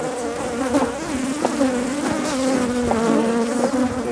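Honeybees buzz steadily at an open hive, a dense, loud drone of many wings close by with a few individual bees rising and falling in pitch, no talking.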